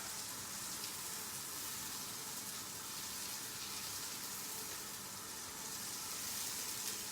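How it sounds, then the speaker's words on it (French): Red onion and leek toasting in a hot pan, a steady dense sizzle and crackle of frying that holds at an even, close level throughout without pause. "Et là, vous voyez, ça commence à toaster. Et là, on a tous les sucres de l'oignon rouge, du poireau qui se mélangent"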